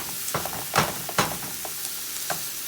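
Ground meat sizzles and browns in a pan while a utensil breaks it up, with soft steady frying and several distinct scraping stirs close by.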